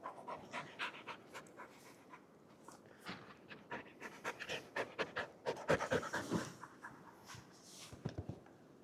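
A dog named Solo pants in quick, uneven bursts close by at a wild camp in a tent, with faint rustling and rubbing sounds between breaths.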